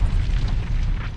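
Volcanic explosion on Venus, a deep rumbling boom with a continuous low roar, loud and dense, short and alone without speech.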